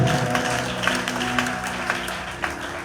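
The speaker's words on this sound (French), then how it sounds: "Dans le nom de Jésus acclame très fort le roi des rois." A church congregation claps and cheers for Jesus, a broad wash of applause with scattered louder claps under a sustained tonal backdrop of music and voices.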